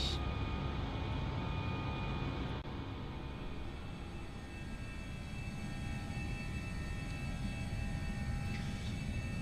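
An Airbus A321 rolls for takeoff in Microsoft Flight Simulator 2020, its jet engines giving a steady, dense roar that holds evenly throughout with no voices over it.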